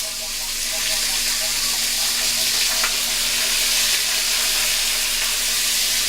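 Chicken pieces fry skin side down in a hot pot for a one-pot chicken dinner, giving a steady, loud, dense sizzle and crackle that holds without a break throughout.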